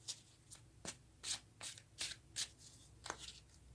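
A deck of tarot cards is shuffled by hand in a quiet room, producing about eight crisp riffling bursts at a steady rhythm, close and fairly soft.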